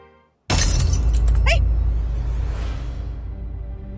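Glass breaking in a home comedy scene: a sudden loud shattering crash after near silence, followed by tinkling shards and a ringing decay that slowly fades over several seconds.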